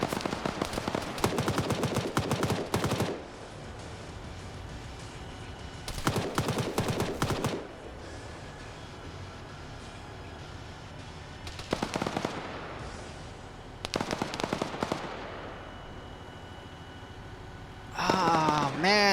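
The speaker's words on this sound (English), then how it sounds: "All the guns sound the same, though." Automatic gunfire rattles in long bursts during an Arma Soviet-Afghan War PvP match, several loud clustered volleys separated by quieter gaps, with a voice speaking over parts of it.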